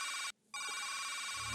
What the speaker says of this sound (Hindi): मैं उठाऊंगा इनका फोन।